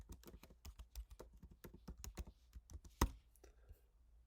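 Computer keyboard typing, a rapid run of close, crisp key clicks in an irregular rhythm, one sharper keystroke near the end, then a soft trailing pause, with no voices.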